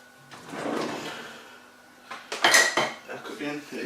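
A wooden spoon pulled from a kitchen drawer while turkey mince cooks in a pan, giving a short clatter of utensils and a drawer sliding, with cooking sizzle underneath.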